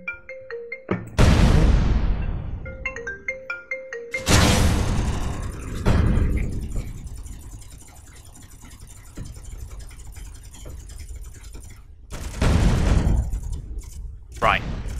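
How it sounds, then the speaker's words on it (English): Bursts of missile launches in the space-building game Space Engineers, a wall of missiles fired in one salvo, loud whooshing roars repeating across the span with a sustained rumbling hiss between volleys. "Look at that, a wall of missiles in one shot"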